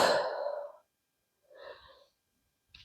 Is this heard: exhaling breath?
yes